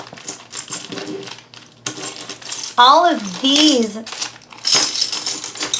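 Small real glass pieces, craft bits from a stamp and scrapbook haul, clink and tick together as they are handled, sharp bright taps scattered across the clip while a person talks over them.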